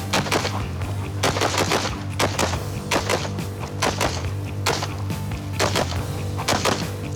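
Rifle fire at a shooting training range, rapid sharp shots in irregular bursts, loud and close, repeating throughout with short gaps between volleys.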